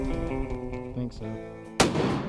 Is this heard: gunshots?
yes